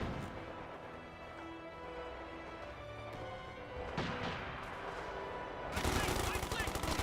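Gunfire and explosions in the Company of Heroes 2 war strategy game, with infantry assault troops fighting Grenadiers; a steady dense battle din under a voice that grows into a loud burst of shooting near the end.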